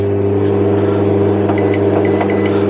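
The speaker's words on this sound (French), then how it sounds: "Donc là maintenant je vais relancer le micro-ondes." A microwave oven restarted inside a camper van hums loudly and steadily, with a few faint electronic beeps partway through.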